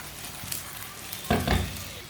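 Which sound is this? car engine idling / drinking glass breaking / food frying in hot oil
food frying in hot oil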